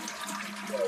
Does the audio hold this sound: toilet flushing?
yes